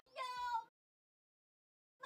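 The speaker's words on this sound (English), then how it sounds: "there's a cat" A cat in a video game gives a single clear, drawn-out meow, followed by silence and the start of another sound right at the end.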